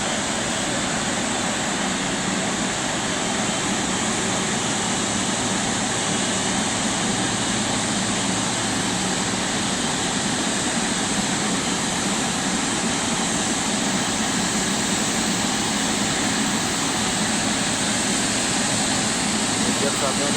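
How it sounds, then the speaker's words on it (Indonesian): Garuda Indonesia airliner PK-GIJ, an arriving Hajj flight, taxiing at BTJ airport in Aceh, heard as a constant loud broadband jet-engine roar and hiss that stays unchanged for the whole stretch. "Lihat pesawatnya, guys. Lagi taxi itu di manual."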